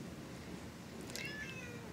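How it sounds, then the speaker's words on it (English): A pet cat gives one faint, brief meow in the background of a quiet room near a crafting table, soft and distant under a low steady hiss. "Can you hear my cat in the background?"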